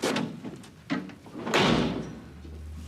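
A door slams shut indoors at home, a sharp bang followed by a dull low rumble as it settles, preceded by a couple of softer knocks and bumps.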